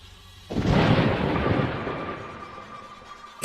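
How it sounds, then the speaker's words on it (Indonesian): A sudden, loud crack of thunder bursts in and rolls on as a long rumbling roar, fading slowly, with no voices over it. "tiba-tiba ada guntur"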